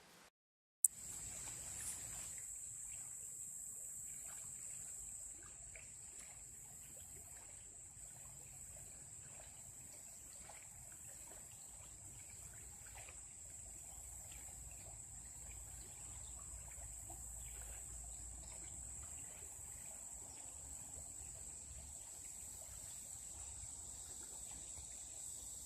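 A creek across the street trickles and babbles faintly and continuously, a soft distant flow with a steady high whine above it, and no voices.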